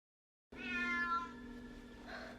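A cat in a Harry Potter film scene, inside a library's restricted section, lets out a single drawn-out meow after a moment of silence, clear and close with a wavering pitch that tails off.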